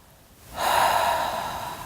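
A sharp, close nasal inhale rises abruptly and holds as a breathy rush while the jaw muscle is pressed during a vocal relaxation exercise, clear and fairly loud with no talk.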